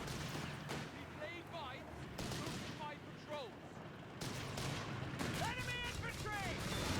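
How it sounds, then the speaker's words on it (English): PIAT anti-tank rounds hit targets in a Company of Heroes 3 battle, with several heavy booming impacts spaced a couple of seconds apart over constant gunfire and rumbling battle noise, while voices call out faintly in the mix. "Well, first Piet shot comes in. Second one, wow, that hit hard."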